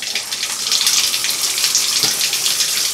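Shower running from a hot water supply fed by an undersized Ecosmart Eco 11 electric tankless heater, a loud steady hiss of spray nearby with no talking.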